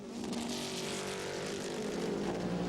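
Race cars at Sears Point during a 2003 American Le Mans Series round, including an Audi, a loud continuous engine roar passing close with steady high-pitched revving.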